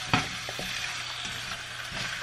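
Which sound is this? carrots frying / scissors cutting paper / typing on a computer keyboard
carrots frying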